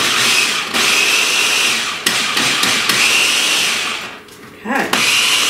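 A food processor pulses Lucky Charms cereal into crumbs for a pie crust, loud grinding bursts broken by short pauses and one longer lull near the end.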